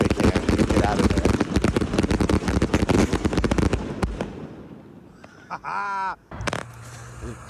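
Big fireworks lit on an empty urban plot, a dense barrage of loud crackling bangs for about four seconds, then scattered pops and whistling rockets while people call out.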